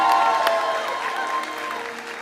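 A church congregation claps in applause, a loud, close burst that slowly fades, with a voice speaking over it.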